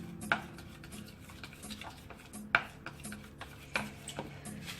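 Fish fry batter for pomfret being mixed in a bowl, a steady soft stirring rub punctuated by a few sharp clinks of the utensil against the bowl, close and moderately loud.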